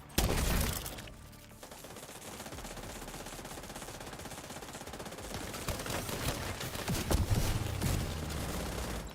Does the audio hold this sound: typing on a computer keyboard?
no